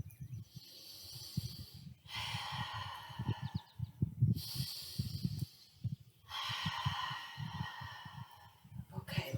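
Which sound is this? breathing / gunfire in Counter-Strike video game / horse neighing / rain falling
breathing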